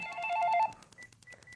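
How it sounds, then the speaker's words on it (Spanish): An office telephone in an architecture studio rings with a warbling electronic tone that cuts off after about half a second, leaving faint room noise and a few soft clicks. "Uy, vamos a colgar el teléfono."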